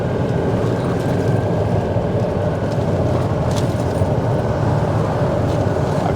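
A golf cart rolling across a bridge, a steady loud rumble of wheels and motor with rattling, continuous throughout with no talk.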